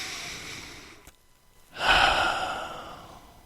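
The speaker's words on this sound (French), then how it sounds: "Commencez par prendre une respiration au niveau de votre poitrine pour élargir les côtes" One deep chest breath during a breathing exercise: a soft exhale trails off, then after a short quiet pause comes a strong, close inhalation that slowly fades.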